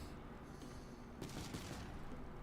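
A video-game explosion in TerraTech erupts as a rapid crackling burst of blasts partway through, over a steady background rumble, fairly faint overall.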